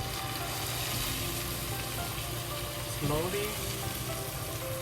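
Hot oil poured over blended Sichuan peppercorn and chili pepper, a continuous close crackling sizzle with a brief louder surge partway through, a voice speaking briefly over it.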